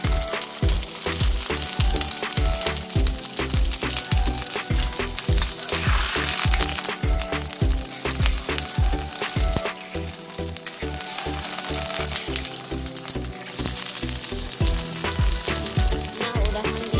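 Washed corn kernels fry and sizzle in a pan while cooking a simple village-style stir-fried spinach dish, giving a loud, dense, continuous crackle with rapid popping throughout and no talk.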